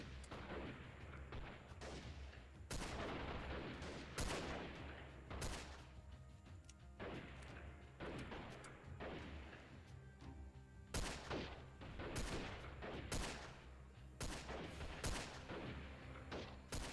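Revolver shots in the video game Freeman: Guerrilla Warfare ring out amid a dense, loud battle, with repeated sharp cracks in uneven bursts over steady background gunfire and booms.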